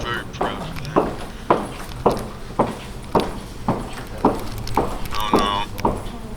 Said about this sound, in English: I can hear their footsteps.